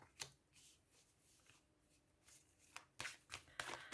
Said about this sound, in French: vous ne voulez pas voir la suite du mélange et du brassage des cartes